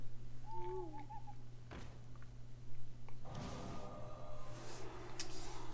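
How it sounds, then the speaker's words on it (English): An owl hoots in the Hearthstone card game, a short wavering two-part call over a steady background hum, followed by a card-game effect swell. "I like the owl thing he's doing here"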